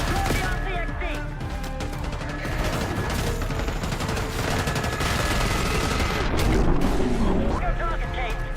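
Sustained gunfire in the Call of Duty Black Ops 6 campaign, dense rapid shots and booming blasts stacked on top of one another, loud and continuous, with game voices talking underneath.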